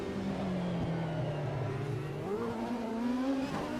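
A CART race car engine in Automobilista 2 at Adelaide drones steadily at high revs, its pitch dipping and then climbing as the driver short-shifts to save fuel, loud and continuous.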